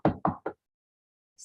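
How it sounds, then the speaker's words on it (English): Three sharp knocks on a house door in quick succession, close and clear, followed by a pause and a faint high tick. "She knocked again."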